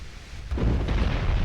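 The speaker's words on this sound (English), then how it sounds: "Oh! Flash fire!" A warship's flash fire explosion in the naval game Ultimate Admiral Dreadnoughts, a sudden heavy, deep rumbling blast that swells over the ambient battle noise and keeps roaring.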